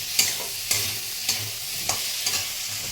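Small bele fish frying in a pan of hot oil, a steady close sizzle broken every half second or so by the scrape of a spatula stirring and turning them.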